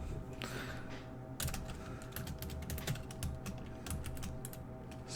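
Rapid, steady keystrokes on a computer keyboard while an HTML doctype is entered, close and fairly quiet, with a few louder bursts of clicking over a faint background hum.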